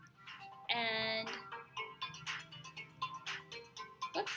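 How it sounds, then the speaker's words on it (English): A phone ringtone from an incoming call, a short bright tonal chime that cuts through, followed by a voice talking. "oops, sorry, getting a phone call"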